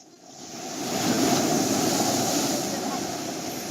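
Strong ocean waves surge and wash steadily at sea beside a boat, with cold wind buffeting the microphone in a broad, continuous roar that swells and holds loud throughout.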